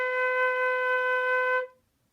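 A flute sounds a single clear, sustained B note, steady and close for under two seconds before stopping cleanly into silence.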